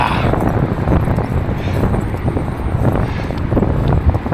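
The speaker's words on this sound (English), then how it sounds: "Sheesh, this wind is not good." Strong gusty wind roars and buffets the microphone while cycling through Chicago, a steady loud rumble with no pauses.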